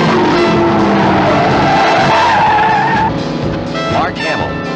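A stolen Corvette skids with loud, sustained tire squeal and engine roar in a car chase, the screech bending and fading toward the end while voices shout over it.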